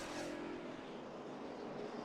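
NASCAR race cars roaring around the track at the 2009 Crown Royal 400, a steady loud engine drone with one car passing close early on.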